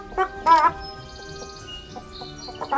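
A chicken wearing a hat clucks in a video game, giving a few short close clucks and squawks over faint game background tones.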